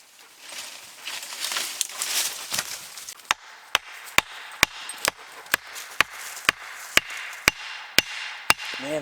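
Hardwood being chopped at a forest campsite, a rapid run of sharp, evenly spaced axe strikes ringing out loud and close after a stretch of rustling activity.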